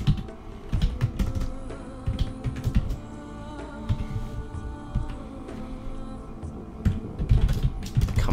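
Rapid, uneven clatter of keys on a computer keyboard, with clustered clicks and brief pauses, close and continuous over a low hum.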